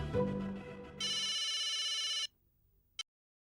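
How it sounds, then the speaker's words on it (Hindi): A telephone rings over speakerphone in a sitcom scene from Taarak Mehta Ka Ooltah Chashmah: a loud, bright electronic ring lasting about a second, then a brief click. "लगा छोटू भाई को फोन लगा"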